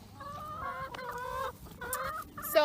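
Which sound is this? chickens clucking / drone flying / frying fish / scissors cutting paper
chickens clucking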